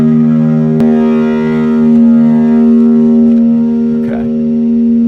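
An electric guitar played through a Line 6 POD Go, pitch-shifted down to E flat, sounds a sustained chord with a steady low drone and a few faint pick attacks, loud and close.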